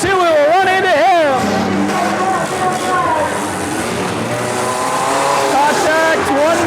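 Demolition derby cars at a county fair rev and grind against each other, engines whining up and down with scraping contact noise, while an announcer talks loudly over the action throughout.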